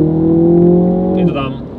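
A MINI JCW GP3 launches from 0 to 100 km/h on a racetrack. Its loud, steady engine drone climbs, then drops sharply as it shifts gear.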